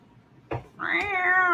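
A cat meows once, a clear rising and falling call preceded by a short thump, close and fairly loud with no talking.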